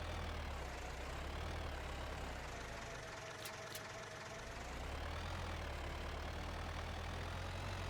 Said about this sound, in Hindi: ट्रैक्टर का जोर बहुत लग रहा है भाई, इसमें पावर नहीं है भाई